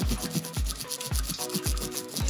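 Makeup brush bristles scrubbed against a nubbed silicone cleaning mat under running water, a close wet rubbing in repeated strokes about twice a second over steady water noise.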